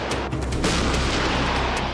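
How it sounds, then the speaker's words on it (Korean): A K9 self-propelled howitzer fires during a proving-ground test, a loud sharp blast followed by rolling booms and echoing rumble across the range, with no voices. "K9 자주포의 첫 발사 시험은 성공이었다."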